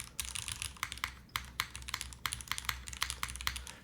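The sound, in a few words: typing on Join65 mechanical keyboard, spacebar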